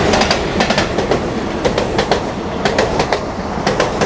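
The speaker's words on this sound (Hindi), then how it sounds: "अभी बगल से आ रही है परशुराम एक्सप्रेस" The Parshuram Express passes close by a station platform, a loud continuous rumble with rhythmic clickety-clack of wheels over rail joints throughout.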